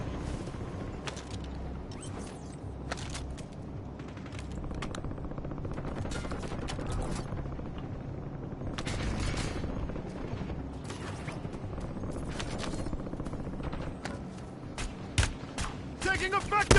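Sustained automatic gunfire and scattered shots in a Call of Duty match, dense bursts crackling throughout over a constant battle din, with voices speaking intermittently on top.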